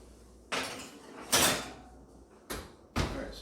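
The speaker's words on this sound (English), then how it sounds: "I'm gonna put these in the oven" Muffins go into a kitchen oven: a few clanking door and rack sounds come in separate bursts of knocks and a louder slam-like clunk, with quiet room background between them.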